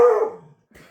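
A playful dog lets out one loud, sharp bark close by, followed after a short pause by a faint little yip.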